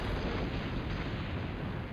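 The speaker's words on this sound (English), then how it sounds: "There's going to be explosions like this every 2 seconds in this game" Game explosions from the PlayStation action title Silent Bomber: a dense, continuous low rumble of blasts rolling together for about two seconds, loud and broadband with no clear gaps and no talking.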